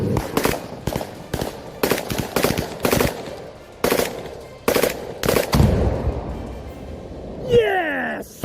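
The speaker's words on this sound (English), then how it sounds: "shot down a Russian FP-5 drone with automatic fire as it chased a Ukrainian pickup" Rapid bursts of automatic gunfire aimed at a Russian FP-5 drone chasing a Ukrainian pickup, with repeated loud, sharp volleys fired in quick clusters, then a voice shouting near the end.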